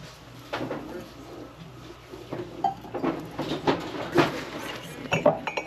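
Glassware clinks and knocks as it is handled on a thrift store cart, giving a series of irregular close chinks and light clatters over a soft store background, with no talking.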